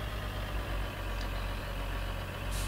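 A New Holland tractor engine idles in the Farming Simulator 2013 game, a steady low rumbling drone with faint pulsing, heard close and alone without talk.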